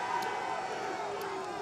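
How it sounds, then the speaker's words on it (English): Crowd roaring and cheering at a poker tournament at Bay 101, a steady dense wash of many voices sustained throughout, loud and continuous. "The crowd going nuts."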